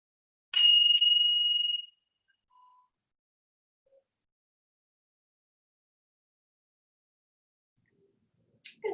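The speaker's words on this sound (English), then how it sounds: "Let us chime ourselves in" A single bright chime is struck once to open a yin yoga session, ringing clearly for over a second before fading, then long near-silence with a faint soft sound at the very end.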